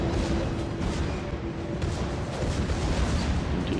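Naval gunfire from the battleship North Carolina in World of Warships, a heavy, continuous rumbling boom of big guns filling the space, loud and sustained with no clear gaps.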